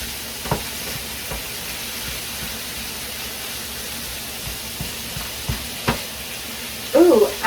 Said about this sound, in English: While we are cooking this sausage